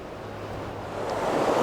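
Fast trout river water rushes in a steady broadband wash that swells slightly louder toward the end, close and continuous with a faint low hum beneath.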